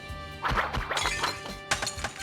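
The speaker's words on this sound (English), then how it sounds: "Why did they sound like breaking glass when there's plastic?" Fire grenades from Danganronpa 2 burst with a glassy smash, several sharp crashing breaks and thwacks in quick succession, loud and close with no talk over them.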